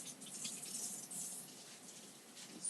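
Water runs steadily from a tap for rinsing, a soft continuous hiss and gush throughout with slight swells in volume, no voices.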